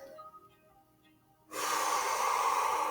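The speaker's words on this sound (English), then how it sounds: "nice deep breaths in through your nose" A deep, steady breath drawn in through the nose, a loud airy rush that starts abruptly after a quiet pause and holds close to the mic.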